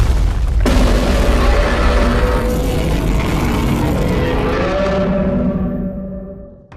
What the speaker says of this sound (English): That was the trailer for Godzilla -1